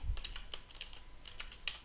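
Typing on a German computer keyboard while writing code, with a string of soft, unevenly spaced key clicks heard up close in a quiet room.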